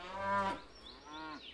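Cattle lowing in two drawn-out moos, the first stronger and the second softer and slightly rising, heard alone at moderate distance.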